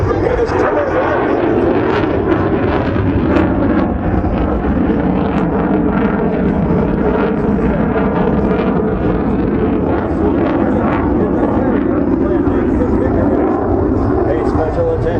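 An F/A-18F Super Hornet roars continuously during an airshow demonstration, a loud, wind-buffeted jet rumble that stays constant throughout, with a public-address voice speaking over it.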